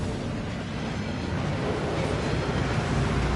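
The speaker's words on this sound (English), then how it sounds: "That waterfall washes away all enchantments." Steady roaring rush of a waterfall at Gringotts in Hogwarts Legacy, a dense, unbroken wash of falling water filling the space, loud and close with no voices.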